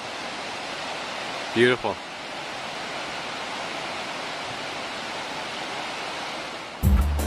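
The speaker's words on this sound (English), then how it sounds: "Tay River heading towards Loggerit." The River Tay flows past Strathtay village over dark, mossy rocks, a big river making a steady, even rush of water throughout, with a voice briefly speaking over it.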